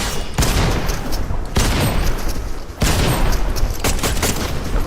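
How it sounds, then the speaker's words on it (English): Rapid bursts of purple hollow assault rifle fire from Fortnite, three loud sustained volleys separated by brief pauses, with no talking. "Lasering them with the purple hollow AR"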